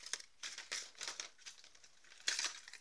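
Plastic packaging around a 15 cm, 57 g seven-part Biwa 7 fishing lure crinkles and crackles in quiet, close bursts of handling, with a sharper rustle near the end.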